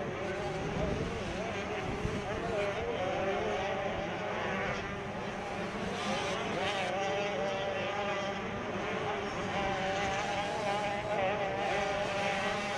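Several 65cc motocross bikes race downhill at Mammoth, their buzzing two-stroke engines overlapping in a continuous, wavering whine under a commentator's voice.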